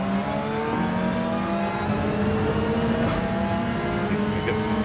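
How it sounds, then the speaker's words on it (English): A McLaren race car in Gran Turismo 7 holds a steady, high-revving engine drone at full throttle down a straight, loud and constant, with faint background game sound. "McLaren is so fast in a straight line"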